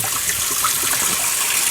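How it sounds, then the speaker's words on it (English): Cold water runs steadily from a kitchen tap into a filling sink, a continuous close rushing splash with no pauses. "I'm just going to run my sink full of cold water"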